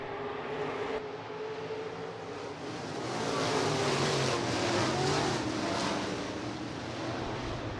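B-Mod race cars roar together on the dirt oval at Rapid Speedway, a dense, loud wall of engine noise that swells as the pack comes to the line, with no talk.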